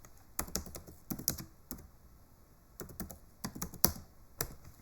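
Bursts of keystrokes on a computer keyboard while writing a Python program, quick clusters of clicks separated by short pauses, close and fairly quiet with no talking.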